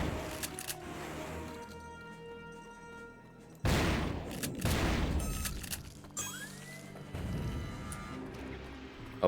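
Gunfire in the shooter game Turok 3 as a large dinosaur is fought, with several heavy booming shots and crashes in separate bursts, ringing tails, and game sound effects between them.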